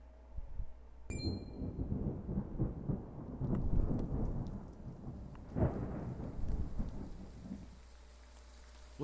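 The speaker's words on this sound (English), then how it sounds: "Rain! Honest to goodness, rain!" Thunderstorm in the Triangle Strategy video game: a sharp crack of thunder opens into steady heavy rain with rolling rumbles, loud and continuous throughout.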